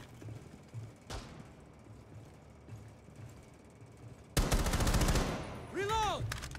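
Video game gunfire starts with scattered faint thumps, then a loud burst of rapid automatic fire partway through, followed by ringing, bouncing metallic echoes.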